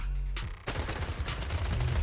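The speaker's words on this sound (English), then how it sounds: "A sharp gunshot echoes from not far away, like the crackling of a dry firework on a summer night." Gunfire in the video game Zenless Zone Zero. A sharp shot lands about a third of the way in and is followed by a dense, rapid crackle of bursts that lasts to the end.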